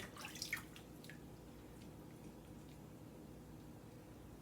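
Water drips into a bath while a baby doll is washed, a few faint, close drips early on, then only a low, quiet wash of background noise.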